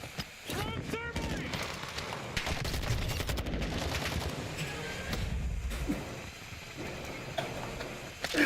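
Dense gunfire in the multiplayer shooter Black Ops 6, rapid automatic bursts and single shots crackling continuously at close range with mechanical clanks, while someone talks over the action.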